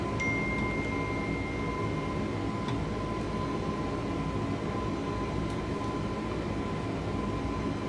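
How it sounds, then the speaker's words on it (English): Steady, loud broadband roar of Airbus A321LR engines at climb thrust heard from inside the cockpit, constant throughout with faint tonal hums and no talk. "looks like the aircraft is really climbing very well"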